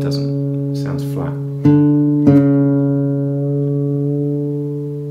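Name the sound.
guitar D string sounding flat against fretted note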